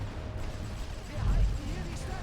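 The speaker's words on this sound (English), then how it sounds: "Just keep the artillery going." Artillery fire in the video game The Great War Western Front, heard as a low distant rumbling boom under a continuous murky background, with a heavier thud midway.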